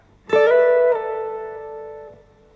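A note picked on two strings of an acoustic guitar together glides up to the 12th fret and back down, one clear sustained tone that rings and slowly fades, with no talking.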